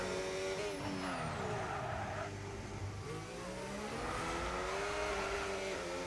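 Racing video game car at Baku slides with tires squealing, a loud engine whining and shifting pitch through the slide, sustained and close with no talk.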